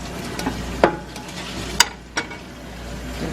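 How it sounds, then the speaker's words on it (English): Beef frying in a pan for a Chinese takeout-style dish, a soft steady sizzle with a few sharp clinks and scrapes of a utensil stirring it. "this is the beef continuously cooking"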